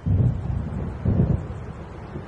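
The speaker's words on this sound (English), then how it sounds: "It seems there's a storm coming." An approaching storm in the video game Alan Wake Remastered brings two deep, rolling rumbles of thunder over a low bed of wind.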